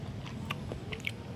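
Close, soft chewing and biting of spicy Thai beef curry with rice, a few moist crunchy bites in an irregular rhythm over a quiet room, no talking.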